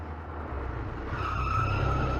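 A car pulls in and skids to a stop, tires squealing sharply over a rising engine rumble, close and loud.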